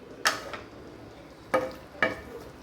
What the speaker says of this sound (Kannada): ಸೊ ಇದು ಅಲ್ಲಿವರೆಗೂ ಇದು ಸ್ವಲ್ಪ ಫ್ರೈ ಆಗಲಿ ಎಣ್ಣೆ ಒಳಗೆ